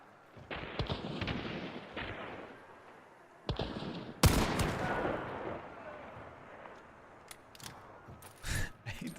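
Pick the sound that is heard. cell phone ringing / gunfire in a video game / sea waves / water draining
gunfire in a video game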